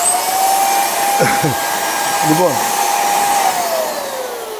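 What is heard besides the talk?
vacuum cleaner running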